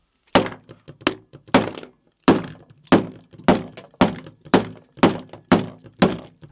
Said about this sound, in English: Only after 50 hits from my ridiculously large pliers do we see that indeed there is a thin layer of glass on the surface.